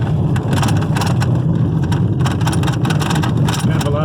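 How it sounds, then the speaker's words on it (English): A car drives slowly into a residential neighborhood in Wyoming, with a loud, steady engine and road rumble close to the microphone and some wind buffeting over the whole stretch. "Alright, so we're driving into the neighborhood here."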